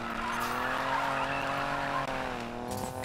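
A muscle car in Need for Speed Payback, its engine droning steadily and loudly while the tires skid and squeal, continuous and close with no talk.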